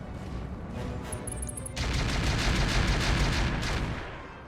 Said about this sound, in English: Shooting a single missile for 12 damage.